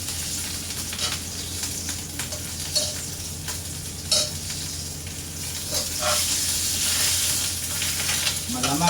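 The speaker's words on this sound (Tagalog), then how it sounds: "So guys, eto paluto na yung mga priniprito nating" Dried fish (tuyo) frying in a pan, a steady loud sizzle with scattered clicks and scrapes of stirring up close, and no voices.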